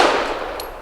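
A Century Arms Centurion pistol firing Blazer ammunition gives one loud, close gunshot whose sharp crack decays into a ringing tail with a faint metallic clink near the end.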